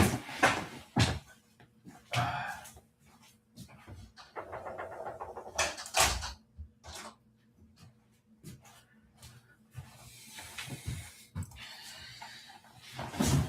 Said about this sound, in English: Give me a second. I just need to close my door.